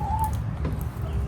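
Chickens clucking softly near a farm dog, a few short fowl calls and a brief rising squawk over steady low background noise, no talk.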